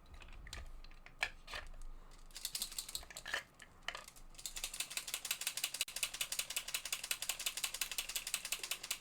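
A Posca paint pen shaken hard, its mixing ball rattling in quick, regular clicks that start in scattered bursts and then settle into a steady, close rattle.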